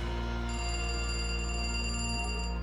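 A telephone rings with a sustained bright electronic tone lasting a couple of seconds, steady and fairly clear over a low background hum, with no voices.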